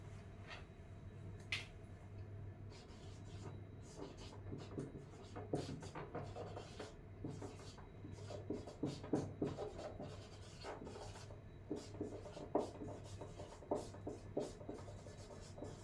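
Chalk or marker scratching on a board during a Hindi-language physics lesson on magnetic fields, a steady stream of short rubbing strokes and taps close by over low room hum, with no talking.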